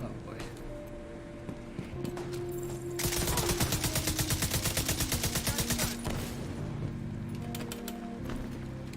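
Gunfire in a video game: a loud, sustained burst of rapid automatic fire in the middle, with quieter game sounds and scattered shots before and after.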